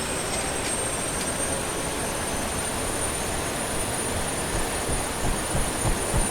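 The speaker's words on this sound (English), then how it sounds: "We got a good engine start." A UH-1 Huey helicopter turbine spooling up during an engine start in the DCS flight simulator, a steady dense whine and rumble with a faint high tone, loud and continuous.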